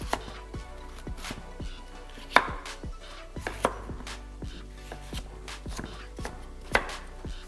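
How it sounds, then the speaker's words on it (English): A kitchen knife chops peeled squash into small cubes on a cutting board, sharp irregular knocks coming at a brisk uneven pace, close and clear with no voices. "Chop the squash into small cubes."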